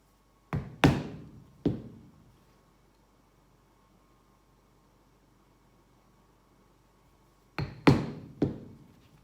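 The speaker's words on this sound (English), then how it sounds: "I'm just going to use this punch" A hand punch rounds the corners of cut leather squares: two clusters of three sharp, loud knocks each, separated by a long quiet pause, every strike ringing briefly before it fades.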